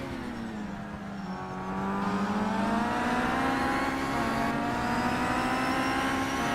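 Touring race cars from a WTCC-style sim race at Laguna Seca, a blue Volvo and a BMW, drone at high revs, the engine pitch climbing steadily as they accelerate, loud and continuous without any talk.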